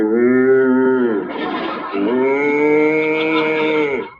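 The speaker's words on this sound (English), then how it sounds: "It's a herd of stampeding cattle." Cartoon herd of stampeding cattle mooing loudly, several long drawn-out moos with a brief scuffling break in the middle, close and alone with no talk.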